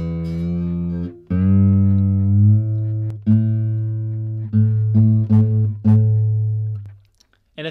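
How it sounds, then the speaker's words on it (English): A guitar string fretted at the fifth fret is plucked several times, ringing out clear sustained notes, close and alone, with brief gaps between plucks before fading to silence. "hold down the 5th fret of that string for your next string"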